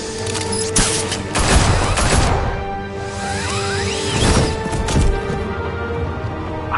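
Gunfire and crashing action from the Batman Telltale Series video game, dense layered shots and booms with whooshing movement, loud and continuous throughout with no clear pauses.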